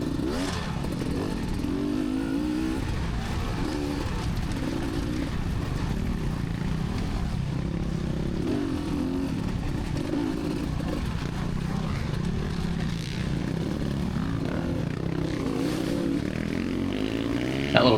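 Dirt bike motorcycle engine running steadily throughout while riding uphill on a trail with water crossings, a continuous loud drone with some clatter and varying revs, no talk.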